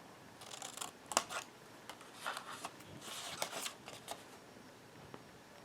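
Scissors snip through paper at an angle while a small box is being made, a run of short crisp cuts in irregular bursts, close and soft, with no talking.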